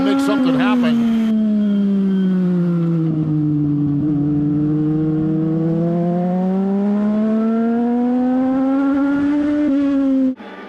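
Race cars on a racetrack, a loud engine howl that dips and climbs in pitch as a car sweeps through a turn, continuous and close, cutting off abruptly at the end.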